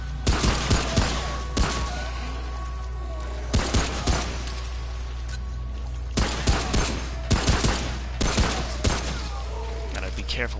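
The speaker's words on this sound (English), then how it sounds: "Gotta be careful with my shooting." Gunfire in the video game Remnant: From the Ashes comes as repeated bursts of sharp, loud shots in short clusters, separated by pauses over a steady low hum, with someone talking between the volleys.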